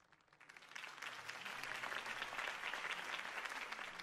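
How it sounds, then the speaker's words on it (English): Applause from a crowd after a mayoral campaign speech swells from quiet into steady, fairly distant clapping that holds for several seconds without voices. "could have heard that applause"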